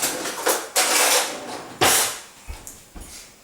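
Measuring spoons fetched and handled in a kitchen, with several metallic clinks and rattling bursts, a couple of longer jangles followed by short taps and knocks.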